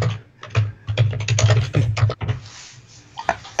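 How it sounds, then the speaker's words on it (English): Fast computer keyboard typing, a dense run of clicky keystrokes in irregular bursts, close and fairly loud, with no speech over it. "Type again, Jennifer."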